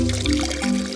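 Spring water pours from a mountain source in Peneda-Gerês National Park, Portugal, a short, close, steady gush with a faint ringing tone.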